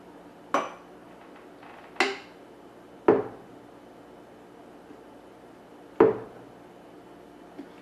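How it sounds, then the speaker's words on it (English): A spoon knocks against a glass jar while a thick homemade batch is spooned in: four sharp, separate clinks spaced a second or more apart in a quiet kitchen. "I'm going to move this over and spoon it into the jar."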